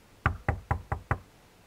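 Five evenly spaced knocks on a hotel room door, close and solid with a hollow wooden thud, rapped in a quick steady rhythm and then silence.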